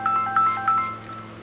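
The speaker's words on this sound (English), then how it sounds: "That'll be the phone, Reg." A telephone rings indoors in a workshop, three short trilling bursts evenly spaced over a low background hum, moderately loud and without talk.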